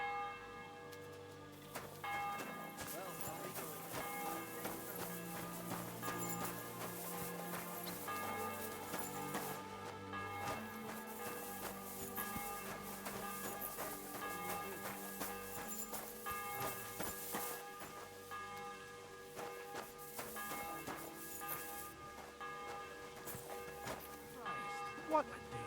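A breakfast bell rings in the medieval world of Kingdom Come Deliverance 2, its tolling tones sustained beneath a thick layer of music and ambient game sound, steady and moderately loud throughout.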